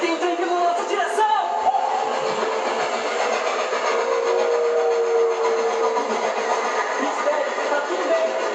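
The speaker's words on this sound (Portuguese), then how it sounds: "Tem um trem vindo na nossa direção!" A train approaching, a steady band-limited rumble and rolling rail noise, loud and continuous throughout, with voices talking over it.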